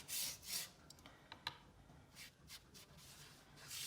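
Soft, close brush strokes rub and swish across watercolor paper, wetting it while painting surf. The strokes come in short bursts and quiet scrapes, with no talking.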